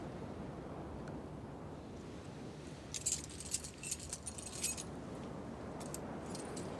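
Keys jangling as they are handed back, a cluster of light metallic clinks midway and some scattered jingles after, fairly faint over a low, windy background hum.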